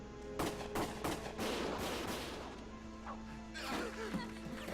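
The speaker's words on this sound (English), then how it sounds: "Gunfire!" Gunfire from the video game Valkyria Chronicles, with sharp cracks and bursts of rapid shots and clattering impacts over a noisy battle background, loud and dense for several seconds.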